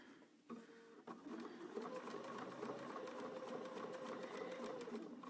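Sewing machine stitching quilt binding, a quiet steady mechanical whir with a fast even stitch rhythm running continuously after a couple of brief clicks at the start.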